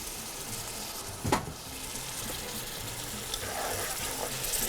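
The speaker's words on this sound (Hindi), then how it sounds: "ज़रा सा पानी डालूंगी मैं इसमें" Water splashes into a pan of frying achaari macaroni masala, setting off a steady, close sizzle with a brief louder hiss as it hits the hot oil, then continuing bubbling and frying.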